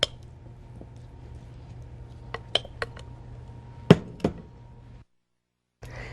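Cooked baked tilapia being moved into a serving bowl in a kitchen, with a few light clinks and knocks of utensils against dishware over a steady low hum, then a brief silence.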